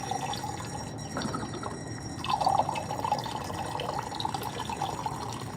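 Water pouring steadily into a container in a chemistry lab, a continuous close trickle and splash with faint dripping, running alone for several seconds.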